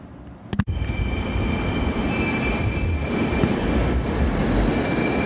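A train rumbles steadily at Berlin Hauptbahnhof station, a loud continuous roar of wheels and carriage noise with a sharp clunk near the start and faint high squeals, no voices.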